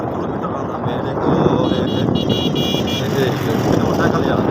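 A motorcycle rides along a foggy rural road near fields of maize, its engine a steady close drone buried in heavy wind rush, with a voice talking over it.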